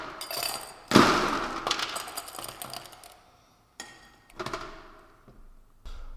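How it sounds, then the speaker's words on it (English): Ice cubes tumbling into a cocktail glass for a Venetian Spritz, a loud clattering rush followed by smaller settling clinks and a second, lighter pour of cubes rattling in, close up with no talking. "you want to start off by filling your glass with ice"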